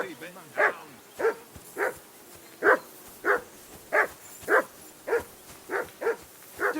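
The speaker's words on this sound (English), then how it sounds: "Call that dog, Henry. Who the hell can listen to that?" In the video game Kingdom Come: Deliverance 2 a hound barks over and over in a steady rhythm, about a dozen loud, close, evenly spaced woofs that keep going without letup.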